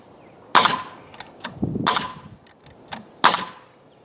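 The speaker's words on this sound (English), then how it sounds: "let's just fire in some nails there" A nail gun drives nails into wooden wall framing for a garden shed, three loud sharp bangs spaced apart with softer clatter and handling noise between them.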